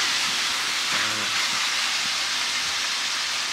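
Marinated pork for Long Xuyen-style broken rice sears in a hot pan, a steady loud hiss and sizzle running throughout with a brief bubbling burst near the middle.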